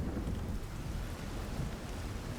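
Steady rain with low rumbling thunder from a storm, a continuous dense wash of sound with no break, used as ambience for a tabletop role-playing session.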